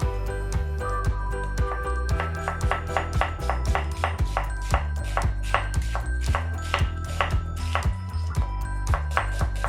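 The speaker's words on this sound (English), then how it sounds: "First, thinly slice the onion." Knife thinly slicing an onion on a cutting board, rapid even taps in a steady rhythm, close and clear, with soft background music.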